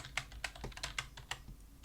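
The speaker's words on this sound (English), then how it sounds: "my typing is terrible" Quick, uneven keystrokes clatter on a computer keyboard while someone codes an Asteroids game, about a dozen close, sharp clicks in bursts with no talking.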